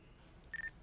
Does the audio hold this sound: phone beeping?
yes